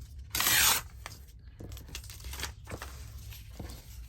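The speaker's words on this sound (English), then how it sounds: "I'm going to tear across the top there, and I'm going to tear this" A paper book page torn by hand, one loud close rip early on followed by softer crinkling and handling rustles.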